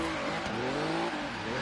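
A BMW i8 drift build with a 1.3 liter turbo engine in Forza Horizon 3 revs hard and close up, its pitch rising and wavering in a short burst with no speech.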